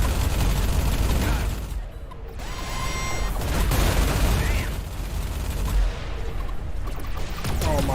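Spaceship turrets in Everspace 2 fire as a dense, loud, continuous mechanical barrage of rapid shots, broken by brief lulls, with a voice talking over part of it.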